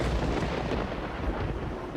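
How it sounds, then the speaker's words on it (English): Rumbling thunder with lightning during an All Saints' Wake event in Final Fantasy XIV, a loud, dense, booming roll lasting about two seconds with no voices. "Thunder and lightning was kind of late there"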